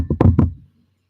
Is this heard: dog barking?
no